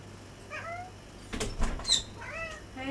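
Pet cat Amber making a few short meow-like calls, faint and close by in a quiet room, with a couple of louder thumps or rustles in the middle.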